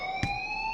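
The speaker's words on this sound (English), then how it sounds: "do you hear that fire alarm?" A fire alarm rings in the Life Is Strange video game, a steady electronic tone holding several pitches at once, with a short thump partway through and no one speaking.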